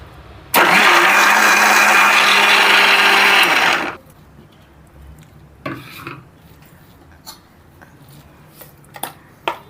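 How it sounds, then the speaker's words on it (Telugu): A kitchen mixer grinder runs loud and steady for about three seconds while coarsely grinding chutney, then cuts off, leaving quiet clatter and a few faint knocks. "ఇప్పుడు మళ్ళీ కొంచెం మరీ మెత్తగా కాకుండా లైట్ బరకగా గ్రైండ్"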